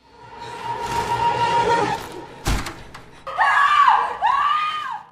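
A woman screams in two loud, rising-and-falling cries on finding a mutilated body, preceded by a muffled sharp thump.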